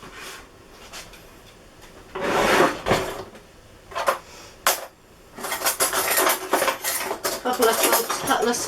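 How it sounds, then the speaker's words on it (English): Kitchenware clatters and clanks as a baking sheet is pulled out, with metallic rattles of pans and cutlery in bursts, a loud cluster of clanging near the end. "we're just going to get a baking sheet"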